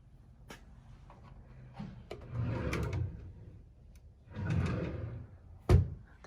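A drawer on a piece of furniture in a store slid open and shut a couple of times, with soft scraping rumbles and a sharp knock near the end.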